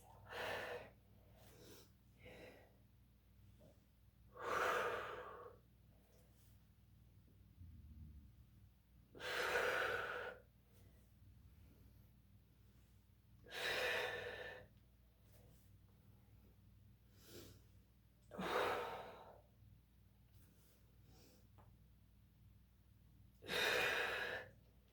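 Slow, steady Pilates breathing: six long audible breaths, in and out, spaced a few seconds apart, close to the microphone with a low background hum and no talking.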